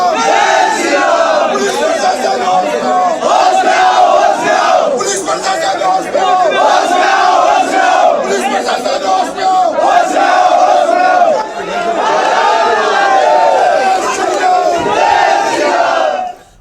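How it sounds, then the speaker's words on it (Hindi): A large crowd gathered outdoors chants Jai Shri Ram slogans, a loud, continuous mass of voices rising and falling in repeated rhythmic calls throughout. "लोग बाहर खड़े होकर जय श्री राम के नारे लगा रहे थे"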